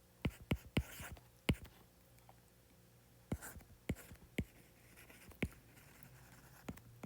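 A physics solution is written out by hand: quiet, scattered scratchy strokes and taps in irregular bursts with short pauses, close and alone against a low background hum.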